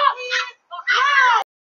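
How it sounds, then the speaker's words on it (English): A little girl screaming, a short high-pitched wailing cry broken by a brief pause before a longer strained scream that cuts off abruptly, close and loud. "The little girl is the one that's screaming."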